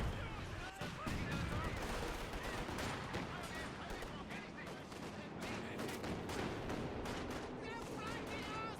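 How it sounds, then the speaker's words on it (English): Katyusha rocket artillery firing in a competitive strategy game match, a dense continuous barrage of rapid launches and explosions lasting throughout, with a commentator talking over the din. "As the Katusha fires once again on this mortar."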